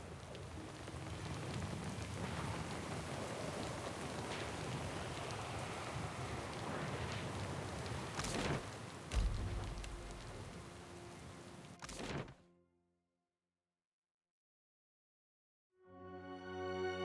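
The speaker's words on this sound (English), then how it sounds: "Hope you got a way of turning off that storm." A rainstorm in the fantasy game Pillars of Eternity II: Deadfire, steady heavy rain pattering with a couple of sharp cracks and a low thump, then a sudden cut to silence before the downpour resumes.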